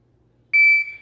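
A Zohan shot timer sounds its start signal: a single loud, steady electronic beep about half a second long that then drops to a quieter tail, with near silence before it.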